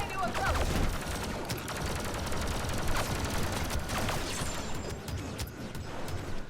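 Rapid blaster fire from Leia's E11 blaster in the Star Wars Battlefront 2 video game, dense crackling bursts of shots over a busy battle din, loud and continuous.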